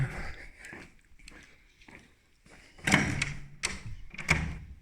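A door in an abandoned maternity hospital bangs and rattles in a cluster of sharp knocks and thuds, close and echoing, after a quieter stretch with soft footsteps and shuffling.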